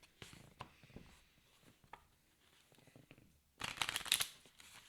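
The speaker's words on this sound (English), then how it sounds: "We're going to shuffle this terror deck and get into it." Cards from a Final Girl board game terror deck being shuffled, a burst of dense riffling near the end after quieter handling and scattered table clicks, with faint talk in the background.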